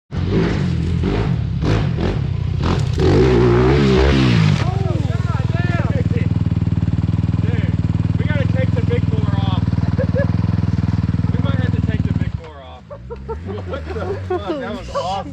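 A Honda CRF 300RX or 250RX dirt bike engine roars loud and close, with a rising and falling rev under the ride, then drops to a softer running note. People talk and shout over it.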